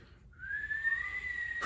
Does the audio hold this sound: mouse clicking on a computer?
no